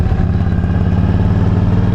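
A Yamaha V Star motorcycle engine running with its exhaust baffle drilled out, giving a steady, loud, low rumbling idle with dense clatter and no talk.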